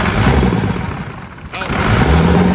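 A Cummins diesel engine in a burnout truck build revs hard and loud up close, dipping briefly before climbing back to a roaring rev.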